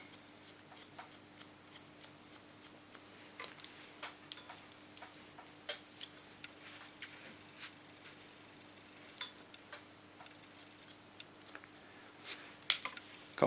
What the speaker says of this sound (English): And the ticking is the wire you can hear.